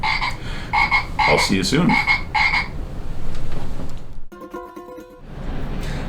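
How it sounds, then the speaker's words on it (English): A frog croaks in a series of loud, close, rhythmic bursts, with low throaty calls in the middle, then a buzzing trill follows after a short pause; a voice speaks briefly. "I want to introduce you to my friend, the frog"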